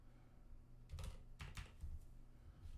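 Quiet typing on a computer keyboard, a few short clusters of soft key clicks with brief pauses between them, no talking.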